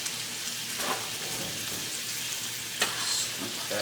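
Food frying in a too-small pan for homemade Taco Bell, with a steady crackling sizzle and a few soft scrapes and plops as spilled bits are spooned back in, close and fairly quiet, no talking.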